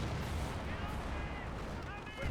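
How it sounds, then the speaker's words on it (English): Flak 88 and mortar artillery fire in a Company of Heroes battle, a dense, continuous rumble of distant booms and blasts with scattered whistling shells, under a commentator's voice. "Flak 88 still trying to hit the mortar"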